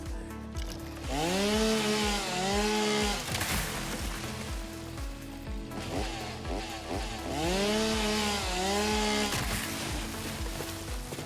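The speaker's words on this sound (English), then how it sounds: "Have I got my chainsaw real quick?" A chainsaw in the video game Satisfactory cuts through vegetation in repeated revving bursts, its whine rising and falling in pitch over a rough, buzzing engine drone, with no talking.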